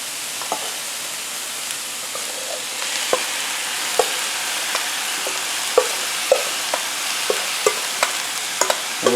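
Corned beef stirred and frying on a Blackstone E-Series 17-inch electric tabletop griddle, a steady close sizzle broken by repeated sharp scraping clicks of the spatula, growing busier toward the end, with no talking.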